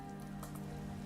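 Steady rain in Skyrim, a constant hiss of drops falling on surfaces, with a low steady hum and faint splashes running under it. No talk, heard alone and close.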